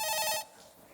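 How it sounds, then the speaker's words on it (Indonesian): An incoming phone call rings with a bright electronic tone for under half a second, loud and alone, then cuts off to quiet room noise. "ada telepon masuk, aku angkat dulu ya."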